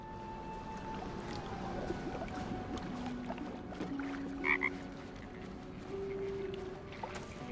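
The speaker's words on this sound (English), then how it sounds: "It croaks softly, calmed, but the frog's eyes watch your every movement" A frog croaks softly inside the Baldur's Gate 3 video game, heard faintly against a low ambient game background with watery sounds and sustained tones. A few quiet croaks stand out near the middle.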